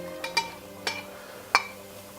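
A utensil stirs meat and bacon in a cooking pot for a braised beef dish, making three or four sharp clinks against the metal over a faint steady background hum.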